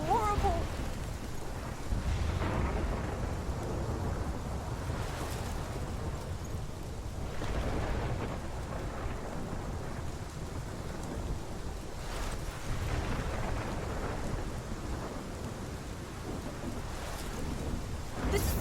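Thunderstorm from the video game Life Is Strange: steady rain and wind with low rolling thunder swells recurring throughout, loud and continuous, with faint speech mixed in.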